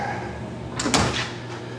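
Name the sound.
door of a Haas UMC 5-axis CNC mill closing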